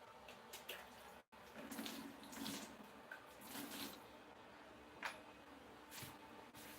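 Water runs faintly while clipper blades are washed, a soft, low trickle and splash with a few brief sloshes and small knocks, quiet and close.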